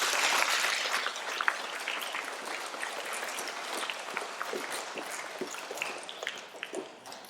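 An audience claps for award recipients at a school stage presentation, steady applause lasting several seconds and slowly thinning out, heard from within the crowd.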